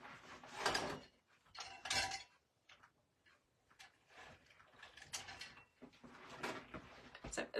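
A steel floral pick machine clamps a steel pick onto a stem for a black and white Christmas wreath, with several crisp metallic clacks and ratcheting snaps in quick bursts, close up.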